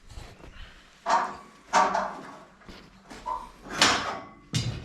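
Side door of a trailer with a hydraulic ram and drop sides being handled, several loud knocks and clatters spaced about a second apart, close by, with no talking.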